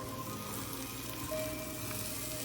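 Butter-soaked grilled cheese sandwich frying in a pan late at night, a steady dense sizzle and crackle running throughout at close range, with no talking over it.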